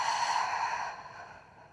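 A single soft, breathy exhale during a body tension exercise for climbers, close and quiet, fading out over under two seconds.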